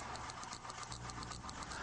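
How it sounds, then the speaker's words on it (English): An engine cranks continuously during a spark gap test with the tester clipped between coil output and ground, a steady rapid churning drone with a rhythmic pulsing, close and even throughout. "cranking the engine"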